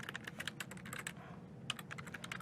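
Fast typing on a computer keyboard, a brisk run of close, crisp key clicks with a brief pause midway before the tapping resumes.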